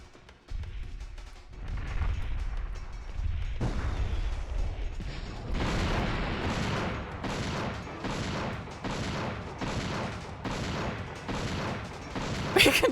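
Rapid gunfire from the PS1 video game Dino Crisis 2 while shooting at dinosaurs: a loud, dense barrage of repeated shots in regular bursts, close and punchy, with no talk over it.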